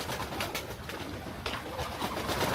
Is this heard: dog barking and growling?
no